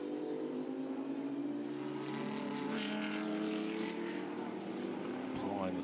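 Race cars roar down the Wellington Straight at Silverstone, a dense, sustained engine drone with rising and falling pitch sweeps as cars pass, heard under a commentator's voice.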